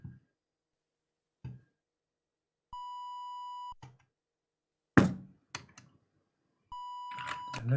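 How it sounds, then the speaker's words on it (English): An FPGASID setup on an Ultimate64 sounds a steady electronic tone twice, each about a second long, between scattered clicks and knocks from handling the hardware. "Let me get out of this beep."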